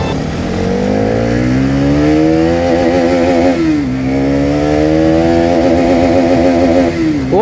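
A motorcycle engine revs hard in second gear, its pitch climbing repeatedly, dropping briefly and climbing again, loud and close for several seconds with no talking.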